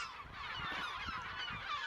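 Raucous, overlapping calls of a crowd of yellow-legged gulls and egrets on an island, a dense honking commotion with repeated squawks, fairly close and steady.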